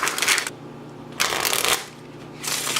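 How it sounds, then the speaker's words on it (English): Three bursts of crisp, papery riffling as a deck of stiff, snappy playing cards is sprung from hand to hand, each flurry lasting about half a second with short quiet pauses between. "The springs come out great because the paper is so snappy."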